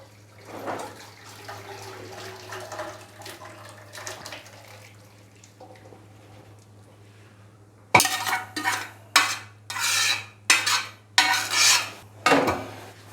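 Cooked ojhri (tripe) is moved into a metal kadhai, with quiet scraping at first, then a series of loud, rhythmic metallic clanks and scrapes of a spoon against the pan.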